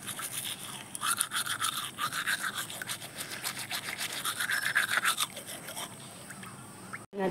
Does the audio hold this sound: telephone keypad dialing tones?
no